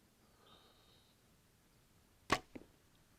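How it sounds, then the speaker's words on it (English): An arrow is loosed from an Obsession Def-Con 6 compound bow: a single sharp, quiet snap and whoosh on release, followed a moment later by a fainter thud downrange, with a thin whine beforehand and no talking. "We're gonna go ahead and shoot this bow."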